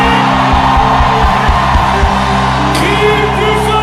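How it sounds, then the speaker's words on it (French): At a church gathering in Abidjan, a congregation shouts victory cries to Jesus, producing loud, sustained whoops and yells over a steady musical drone. "Est-ce que quelqu'un peut pousser de cris de victoire vers Jésus?"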